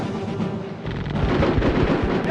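Gunfire in the squad combat game Full Spectrum Warrior: heavy, booming shots in a rapid irregular volley, loud and close, rolling into dense continuous fire after a brief lull.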